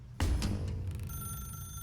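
Telephone in The Stanley Parable ringing, a loud close burst of bell ringing that starts abruptly and trails off into a sustained ringing tone.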